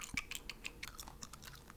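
Wet, close bubble gum chewing in quiet ASMR style, with soft smacks and clicks repeating in an irregular rhythm, no talking.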